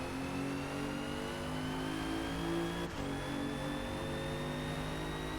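A 2017 Alfa Romeo Giulia in Forza Motorsport at the Nürburgring holds a steady, loud engine drone, with a brief gear-shift dip near the middle before the revs climb again, no talking.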